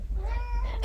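A small cat lets out one clear, drawn-out meow close by, ending in a sudden noisy burst.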